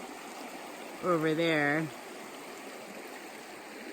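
River water rushes in a steady, even hiss at a trail river crossing among canyons. A voice speaks briefly partway through.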